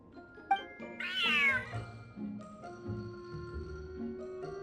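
A cat in a Genshin Impact cutscene gives a single drawn-out meow, with soft game music and ambient tones underneath, no voices.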